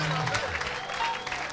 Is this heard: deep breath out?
no